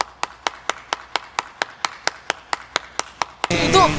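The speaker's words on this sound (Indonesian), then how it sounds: "tepuk tangan dong buat teman-teman di sini" A crowd claps at a betta fish contest: fourteen sharp, evenly spaced claps that are close and loud, followed by a burst of crowd noise and voices at the end.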